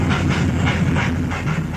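Duncan, a small steam engine, chuffs away in a quick, rhythmic pulse with a steady hiss, close and loud, with no voices over it.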